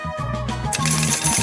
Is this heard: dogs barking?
no